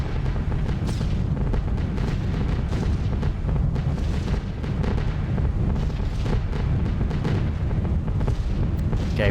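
Continuous anti-aircraft flak bursting around a B-17 bomber in the game B-17 The Mighty 8th, dense rumbling booms and cracks layered over a steady loud roar with no letup.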